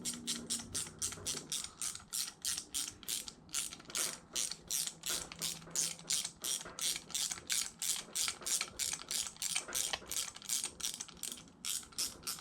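Close, steady ratchet clicking as a 14 mm socket tightens a bolt on a Yamaha YFZ450R engine, a long even run of rapid, regular clicks.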